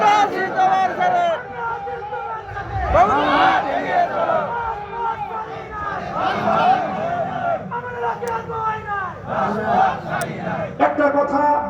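Large crowd at an outdoor religious gathering in Raunha, Dhangara, Sirajganj, chanting loud rhythmic slogans in unison, with voices rising and falling in repeated bursts throughout.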